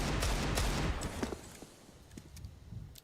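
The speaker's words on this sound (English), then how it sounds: "2 wallbang bullets connect." Gunfire in a Counter-Strike match, fired through a wall: several quick overlapping shots in a dense burst, then scattered fainter cracks trailing off over steady background noise.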